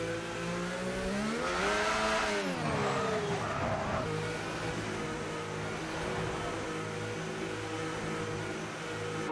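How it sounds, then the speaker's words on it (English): A safety car drives on a race track in a racing game, its engine rising and falling in pitch as it passes with a swell of roar, then settling into a steady mid-pitched drone. "That's a safety car."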